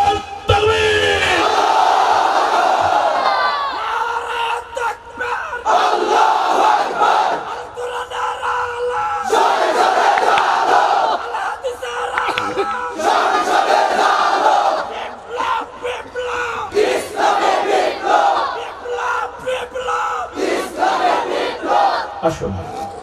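A large crowd at an Islamic religious gathering roars a takbir chant in unison, shouting Allahu Akbar again and again in loud, long waves with short pauses between them.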